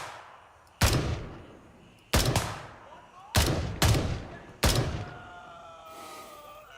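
Five loud, close gunshots ring out in the extraction shooter game Gray Zone Warfare, spaced unevenly with two in quick succession, each with a sharp crack and echoing tail, followed by fainter distant tones.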